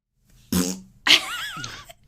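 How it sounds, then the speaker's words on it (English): Two close, loud farts in quick succession, the first a short buzzy blast and the second longer, with a wavering squeaky tail. "fart."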